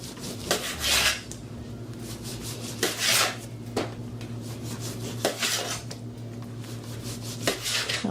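A serrated knife saws through rolled cinnamon roll dough in a home kitchen for a Jamaican recipe, making a series of short rasping strokes that come in bursts of about one every second or two, close up with a low steady hum underneath.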